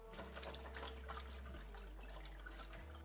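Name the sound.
rinsing sliced potatoes under tap water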